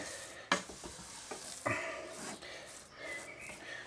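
Flour is being stirred into curry sauce in a pan, with a utensil scraping and clacking against the metal in irregular strokes over a soft sizzle, and no talking.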